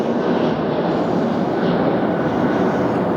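Delta flight 753 from Atlanta touching down at LAX gives a broad, steady roar of jet engines, loud and continuous for a few seconds with no talk.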